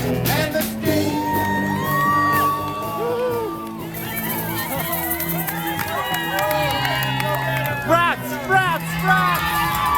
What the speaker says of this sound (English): they've been yelling at us for 6 whole miles straight